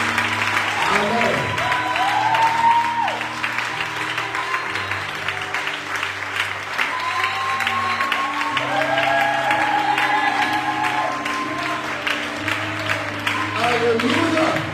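A church congregation applauds the Lord, with sustained clapping and cheering from a crowd running under talk and musical tones throughout.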